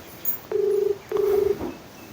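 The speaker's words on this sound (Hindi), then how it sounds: "कॉल जा रही है, हो सकता है किसी काम में होंगे वो" A phone call rings out with two long, steady electronic tones separated by a pause, clear and close, after a soft click. No one talks.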